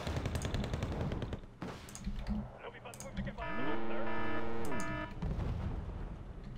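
RM-70 rocket artillery fires in the Wargame: Red Dragon video game, a dense rattling volley of launches swelling into a loud sustained roar with a falling whine, surrounded by sharp clicks and rumbling impacts.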